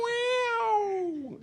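A human voice imitates a cat waking up with one drawn-out meow, close and clear, gliding slowly downward in pitch and trailing off at the end.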